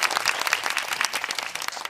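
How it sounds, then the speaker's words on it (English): A class gives a round of applause during a demo teaching lesson, many hands clapping in a busy, fairly loud, continuous patter with no talking over it. "let's give them a round of applause"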